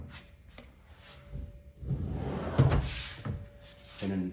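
A deep soft-close kitchen drawer sliding shut, a smooth rolling rub that slows and settles gently without a bang, with faint background voices around it.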